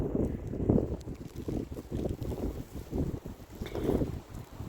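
Hurricane-force wind in a mild December in Visaginas, Lithuania, gusting against the microphone in heavy, irregular buffeting bursts with a low rumbling roar that rises and falls throughout.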